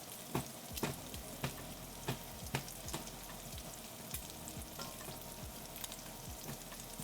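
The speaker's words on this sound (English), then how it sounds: "Let's stir these shallots up." Shallots frying in a pan on a kitchen stove, a steady hiss of sizzling oil punctuated by repeated scraping clicks as they are stirred, close up with no talk.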